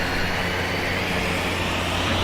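Broadband jet engine roar in Microsoft Flight Simulator during a general aviation flight over Japan, a steady unbroken wash of noise holding at one level throughout with a low hum beneath, no talk.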